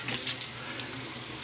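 Water runs steadily from a bathroom tap during a wet shave, a constant close hiss with no speech over it.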